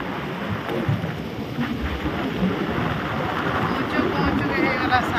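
Heavy rain pours steadily in a dense, loud rush, with low rumbling underneath and a voice speaking over it.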